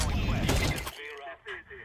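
A short, loud flurry of AK rifle shots in a Counter-Strike 2 duel, crackling close for under a second before trailing off into quieter game sounds.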